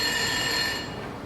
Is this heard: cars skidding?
no